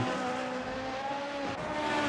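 Sim racing car on the Heart Lake Complex track spinning up its rear wheels, a steady high engine whine with faint tire slip, alone and fairly quiet throughout.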